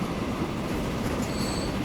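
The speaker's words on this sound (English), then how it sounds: "That's a long train." A long train rolls along in the Transport Fever 2 railway game, a steady close rumble of wheels and wagons with a faint high squeal creeping in near the end.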